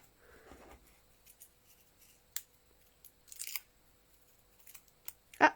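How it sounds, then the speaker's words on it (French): Scissors cut a small piece of card for a handmade birthday card. There is a soft rustle, then a few sparse, quiet snips and crisp clicks in a calm room. "On va en découper un petit morceau là."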